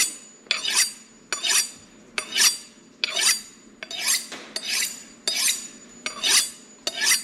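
A kitchen knife drawn repeatedly across a sharpener, eight bright rasping strokes at a steady rhythm, each a short metallic scrape, close and clear with no talking.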